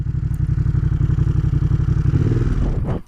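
An Aprilia Caponord motorcycle runs in first gear, its engine giving a steady, close, pulsing throb with a fast rhythmic beat that shifts slightly near the end before cutting off.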